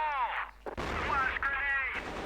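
Grenade explosions and gunfire burst loudly in the CrossFire shooter during a professional CrossFire Stars Grand Finals esports match, with a heavy blast partway through amid continuous battle noise and ringing game tones.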